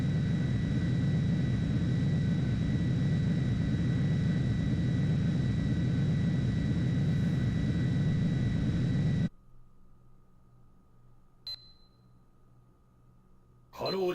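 A fixed-wing aircraft lands in the video game Ace Combat 3, heard as a steady loud broadband engine roar with a high whine that cuts off abruptly to near quiet, followed by a faint tone and a brief click.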